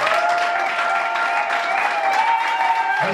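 A church congregation applauding during a worship service, sustained dense clapping from a crowd that holds steady for a few seconds, with faint voices mixed in.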